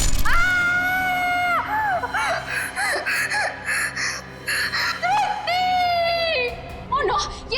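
A woman screams in a tense crime-drama scene, letting out long, piercing, wavering wails broken by sobbing gasps and short cries, loud and close, with dramatic background sound between the outbursts.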